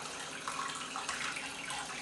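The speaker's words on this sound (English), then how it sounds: "just run under the tap" Tap water runs steadily onto a telescope's primary mirror, rinsing it after cleaning. The hiss of the stream sounds fairly soft and even, with small splashing changes in tone and no talking.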